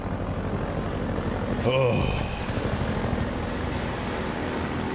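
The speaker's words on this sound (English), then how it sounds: "The helicopter still pursues me with murderous intent" Combat helicopter from Half-Life 2 roars in steady pursuit, a dense continuous rotor and engine drone filling the scene, with a brief rising whine and a man's short exclamation over it.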